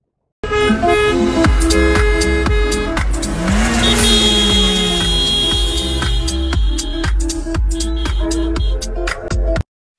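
Wedding revelers' cars on a small country road between Goudargues and La Bastide, honking repeatedly in loud rhythmic toots over steady engine noise, with one car passing close by.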